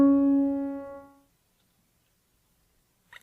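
Two piano notes a half step apart ring out together, bright and close, then decay into silence after about a second, followed by a faint brief click near the end.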